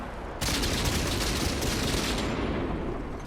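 A tank cannon fires in World of Tanks on Xbox One from a rare Grosstraktor Krupp, a sudden loud boom followed by a long rumbling roar that slowly fades.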